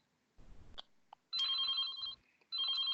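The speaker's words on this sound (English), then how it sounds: "My phone is ringing" A telephone rings loud and close in two long electronic bursts with a short gap between them, after some brief faint rustling.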